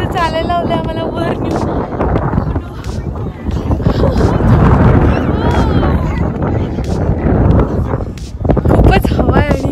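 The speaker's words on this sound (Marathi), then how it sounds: "खूपच हवा आहे" Strong wind on a desert safari outside Dubai buffets the microphone with rough low rumbling gusts throughout, while people talk close by.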